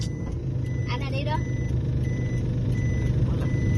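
Reversing beeps from a vehicle backing up, repeating steadily over a loud rumbling engine, with people talking nearby.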